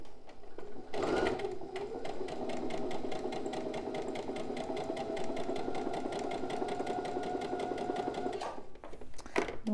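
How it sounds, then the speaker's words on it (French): A sewing machine stitches piping in a steady, fast mechanical whir with rapid needle ticks, running continuously for several seconds near the microphone before stopping, then a brief handling clatter. "je vais venir coudre dans le amas de fil"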